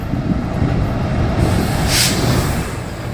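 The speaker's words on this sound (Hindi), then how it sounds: "लेकिन फिर ये ट्रेन की आवाज" A North Western Railway train rumbles past steadily, loud and close, its dense low roar broken by a brief hiss partway through, with no talking.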